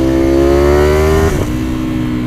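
A Ducati sportbike engine, such as the 2019 V4R or Panigale 1199R, revs loudly nearby, its pitch climbing smoothly before a sharp drop as the throttle shuts, then settling into a lower, steady note.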